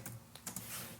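Keys tapped on a computer keyboard while a web search is entered, a few separate clicks and short bursts over about a second, fairly close and not loud, with no talking.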